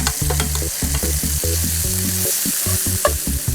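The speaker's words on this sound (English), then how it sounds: "I will now add the remaining herbs and seasonings to the pot." Herbs and seasonings go into a sizzling pot during tableside gueridon cooking, with a loud steady frying hiss under repeated clinks and scrapes of utensils against the pan.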